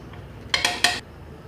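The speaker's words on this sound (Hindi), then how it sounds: "ये उठा लिया, इसे मिक्स करेंगे। अच्छे से सारी को मिक्स कर लेंगे।" A spoon clinks and scrapes three times against a pot while chicken biryani is stirred, with short bright metallic knocks and no talking.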